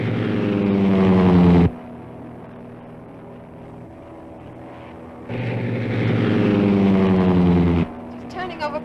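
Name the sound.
propeller airplane engine being throttled up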